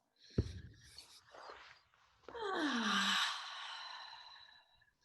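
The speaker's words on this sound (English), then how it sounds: "Two deep cleansing breaths." Deep cleansing breaths during a yoga child's pose: a sharp inhale, then softer breathing, and finally a long, loud, airy exhale that fades out, close and intimate with no speech.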